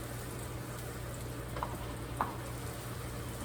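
Mushrooms frying in a pan, a steady low sizzle and crackle running throughout, with two brief louder pops or scrapes midway and no talking.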